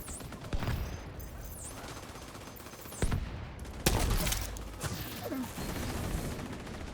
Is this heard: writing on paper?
no